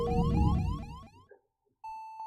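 A warbling, rising alarm in FTL Faster Than Light sounds over the ship's engine rumble after a jump, with the hull damaged below 75 percent. It fades to near silence, then a steady electronic beep tone starts.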